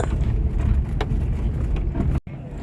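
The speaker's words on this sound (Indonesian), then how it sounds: "Sensasi naik mobil jeep, badan kita digoyang ke segala arah." A jeep rumbles over rough terrain on Mount Bromo, a loud, steady low engine and road drone heard from inside, cut by a brief sharp drop near the end.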